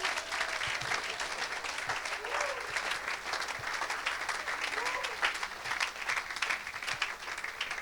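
A church congregation breaks into sustained, dense applause and cheering to give glory to God, with voices calling out throughout the steady clapping.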